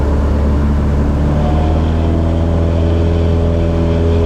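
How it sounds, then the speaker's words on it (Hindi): A recording of a small hobby airplane in flight, played back: a loud, steady engine drone with a continuous buzzing hum and a slowly shifting pitch, with no break throughout. "आप मेरे हवाई जहाज़ की आवाज़ सुनिए जो मैं उड़ा"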